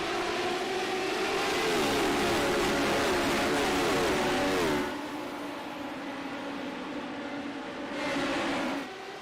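Radical sim racing cars in a video game accelerate at the race start, a loud rising engine whine for several seconds that drops off, then swells briefly again before fading.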